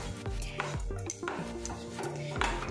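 Carrot and semolina mixture with chopped almonds being stirred in a pan: a spoon scrapes and knocks against the metal in repeated close clatters, alongside a sustained tonal hum, with a voice faintly present.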